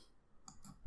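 A mouse click sounds on a Done button in Oracle Fusion Subledger Accounting Cloud software, two quick soft clicks close together, faint and close up, with no talking.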